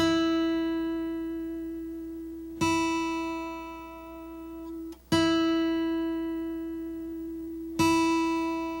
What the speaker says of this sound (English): Then you go back to the 5th fret to tune your high E string.